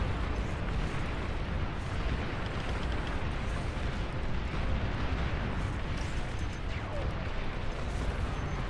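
A commander unit blows up amid a real-time strategy battle in Beyond All Reason, heard as a dense, continuous roar of explosions and artillery-like blasts that stays loud throughout, with an announcer voice briefly over it.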